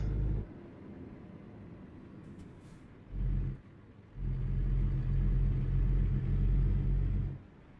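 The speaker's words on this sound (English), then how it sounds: "every other truck feels so slow when you're sitting here bobtail and can accelerate on at a moment's notice" A bobtail truck engine in American Truck Simulator rumbles low, surging in short bursts and then in a longer sustained pull before cutting back, fairly quiet overall.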